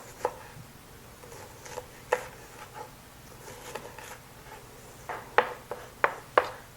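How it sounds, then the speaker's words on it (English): A knife slicing through a crescent ring ingredient into thin slices on a board, giving a run of light, crisp cuts that grow sharper and louder toward the end, with no talking. "I'm just going to make thin slices. And then just run your knife through it."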